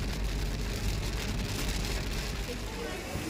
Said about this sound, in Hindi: देखिए कितनी सुंदर बरसात आ रही है।